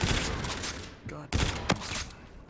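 Burst sniper rifle fire from Call of Duty: Infinite Warfare, heard as a few sharp gunshot bursts over dense game noise with a brief lull in the middle.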